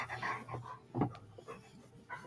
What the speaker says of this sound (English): My dog just climbed on me for some reason.